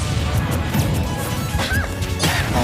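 A strong up smash hit in Super Smash Bros. Ultimate, a sharp crashing impact cutting through loud crowd noise and game sounds.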